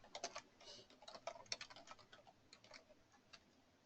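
Quiet, close typing on a computer keyboard, an irregular run of light clicks that bunch together at first and then thin out toward the end.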